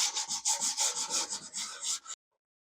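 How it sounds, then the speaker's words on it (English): Cardboard rubbed back and forth over the finished wood of a bookshelf to knock down uneven finish, a steady run of close, scratchy strokes in quick rhythm, then stopping abruptly. "the whole thing gets rubbed down with cardboard to just take off some of the unevenness in the finish and buff it down a little bit"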